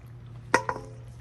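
Spare rib trimmings dumped into a pot, a short wet thud followed by a softer second plop, close and fairly faint over a low steady hum, no talk.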